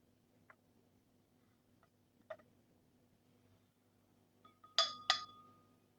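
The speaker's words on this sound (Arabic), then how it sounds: "الآن باخذ العينة وبفرغها بكوب قزاز وبضيف فوقهم الحليب" A sample tipped into a glass cup, giving a few light clinks and taps spread out, ending in a brighter pair of sharp glassy knocks, close and quiet otherwise.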